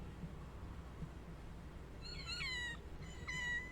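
Two high, drawn-out cat meows from a Wii U video game, the second shorter, heard clearly over a steady low game background hum.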